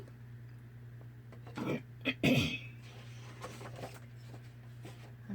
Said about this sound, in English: sure it's not pleasant listening to me choke to death here